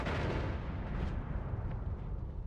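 Big explosion spells cast from a wand in a modded video game, a dense continuous roar of booms filling the whole stretch, loud and close with no talking.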